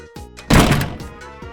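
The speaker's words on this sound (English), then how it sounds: "Papa banged the door so hard it shook the house" A door slams shut hard with a single loud, heavy thud that booms and rings out briefly, set among quieter knocks and rattles.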